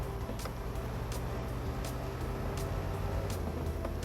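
Scout 800 truck engine from the SnowRunner video game idles and churns steadily in the off-road driving game, a continuous low rumble with faint periodic ticks above it, no one talking.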